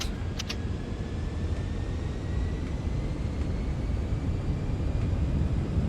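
Deep, steady roar of a FinnAir Airbus A340-300's four engines at takeoff thrust in a flight simulator, a continuous broadband rumble with a faint rising whine and a couple of brief clicks early on.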